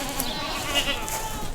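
Goats, including a young New Zealand buck, bleating at feeding time on a farm with livestock guardian dogs; a short, fairly quiet stretch of overlapping bleats and farmyard noise, with no talking.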